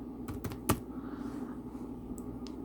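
Close, crisp keystrokes on a computer keyboard: a quick cluster of taps near the start, then a pause and a few lighter clicks, with no talking.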